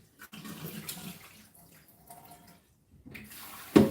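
Tap water runs into a cooking pot for about three seconds, a soft uneven splashing that stops. A sharp knock follows right after.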